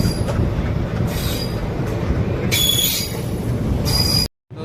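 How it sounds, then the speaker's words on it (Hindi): A passenger train hauled by an ALCO diesel locomotive passes near Zafarabad Junction, a loud steady rail roar with bursts of wheel screech and clatter as it goes by, heard from aboard the Marudhar Express, ending abruptly. "और इधर से कोई एक ट्रेन भी आ रही है, एल्को लोकोमोटिव जिसमें लगा हुआ है"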